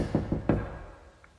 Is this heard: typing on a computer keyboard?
no